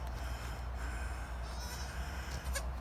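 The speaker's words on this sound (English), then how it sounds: "this beautiful alpine doe had 2 babies" An alpine goat doe with her two newborn kids: a short, fairly faint bleat rises near the end above steady outdoor background noise.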